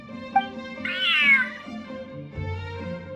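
A cat meows in Genshin Impact, one long rising and falling cry near and clear, with a short chirp before it and softer purring tones below, no talking.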